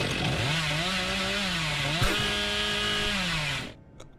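A short chainsaw sound effect plays as a stream donation alert, its motor droning with slight pitch changes for about three and a half seconds before cutting off abruptly.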